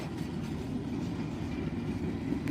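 Freight train rolling past in rural Alabama woods, a steady low rumble of rail cars with faint wheel clatter, close and continuous with no voices.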